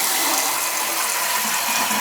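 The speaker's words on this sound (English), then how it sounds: "I mean, I flushed it 4 times in a row." A toilet flushes in a home bathroom with a steady, close rush of running water that holds evenly throughout, with no other sounds.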